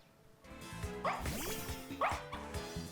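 Fidough, the puppy Pokémon, lets out two short, bright yipping barks about a second apart in a Pokémon Violet battle, over soft game music.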